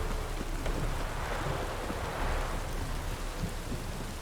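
Steady rain hisses throughout a thunderstorm in The Witcher 3: Wild Hunt, with a dull low rumble of thunder rolling underneath, even and continuous with no voices.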